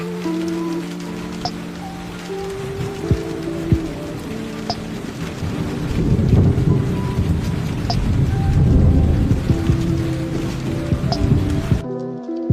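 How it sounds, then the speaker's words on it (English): Steady rain and rolling thunder are layered into a hip-hop beat, heavy patter building through the middle under looping musical tones, ending abruptly. "Cause I loot the beat, then added in the rain."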